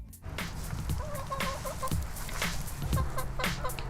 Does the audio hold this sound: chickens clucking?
yes